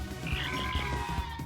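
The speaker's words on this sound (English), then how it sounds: "This badge causes attacks to sound like crickets" A cricket-chirp attack sound effect from the video game Paper Mario, played when a badge makes attacks sound like crickets: a steady, close croaking buzz with a high chirping trill, repeating in even pulses with no talking.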